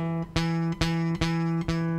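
A strummed open guitar chord rings repeatedly, four evenly spaced strums with a buzzy, rattling fret buzz on the sustained notes from fretting far from the fret.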